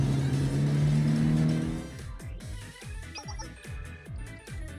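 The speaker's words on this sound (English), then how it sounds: "Oh, I think this is the real bus." A bus in the game Blue Archive, heard first as a steady engine drone that fades after about two seconds into a regular series of soft, low thumps, with no talk.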